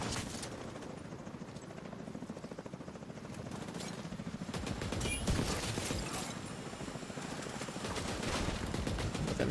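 Gunfire in the video game The Division 2, dense rapid bursts of automatic shots layered with mechanical clatter, loud and nearly continuous throughout.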